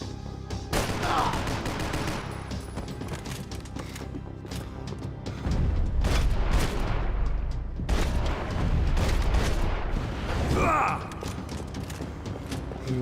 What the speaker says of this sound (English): Shotgun shot.